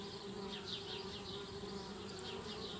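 Bees buzzing around a tree house in the adventure game Anna's Quest, a continuous close swarm drone with wavering wingbeat tones and no voices.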